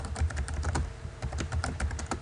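Rapid, irregular clicking of keys on a computer keyboard, close and steady, with bursts of keystrokes and no talk.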